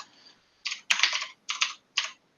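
Fingers type on a computer keyboard, several quick bursts of clattering keystrokes with short pauses between them, close and clear with no talking.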